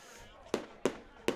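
Fireworks go off at a North Dakota Class A high school football game between Oakes and Lisbon, three sharp distant pops spaced about a third of a second apart over a faint background murmur.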